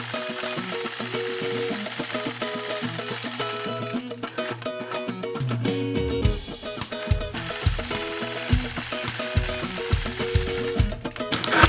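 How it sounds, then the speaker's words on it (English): A quilting sewing machine runs steadily as it stitches a point-to-point curve using a Sway machine quilting ruler. The fast mechanical whir and rhythmic needle chatter run continuously, pause briefly midway, then resume, with no talking. "Then I'll engage my machine and stitch a point-to-point curve."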